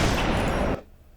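Loud sustained burst of gunfire from the video game Mercs of Pandora, a dense crackling roar that cuts off abruptly into near silence.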